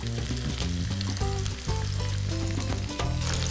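Batter-coated baby corn fries in hot oil for crispy Chinese-style corn snacks, giving a steady, dense sizzle with tonal background music running underneath throughout.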